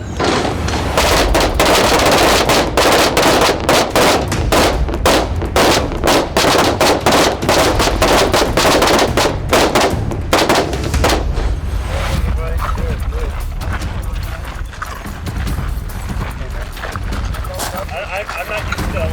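Rifle shots fired from a kneeling position, five rounds within eleven seconds, ring out as sharp close reports amid constant loud background noise.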